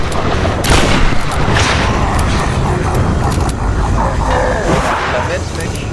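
Shotgun blasts and gunfire in the Tomb Raider video game, loud dense bursts of shots layered over game effects, with a player's voice talking over the action.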